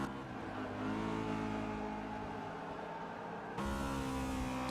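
Several V8 Supercars race cars in a racing video game roar loudly and steadily with high-revving engines, the tone shifting sharply near the end as a car changes gear or passes close by.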